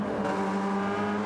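A race car engine on the Interlagos circuit in a racing video game drones steadily at high revs throughout, loud and continuous, with no talk over it.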